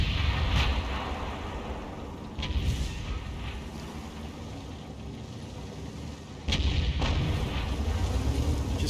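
Tank gun firing in a video game, the Progetto CC55 mod 54, with several heavy booming shots spaced a few seconds apart over a continuous rumbling engine background.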